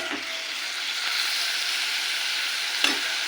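Potatoes frying in mustard oil give a steady, close sizzle with soft stirring scrapes and a brief clink near the end, with no voices.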